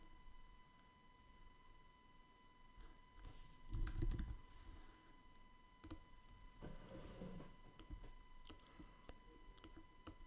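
Soft, sparse clicks from a computer keyboard, scattered taps with a few louder thumps, close and quiet against a steady background hum, with no talking.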